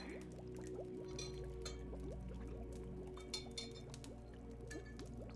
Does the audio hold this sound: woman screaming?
no